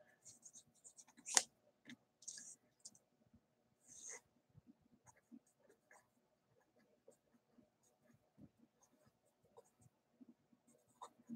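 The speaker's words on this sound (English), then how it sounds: "Maybe I should write that down." Pen or pencil scratching out handwritten notes, faint and close, in short bursts of scribbling with a sharper tap or two and quiet stretches between.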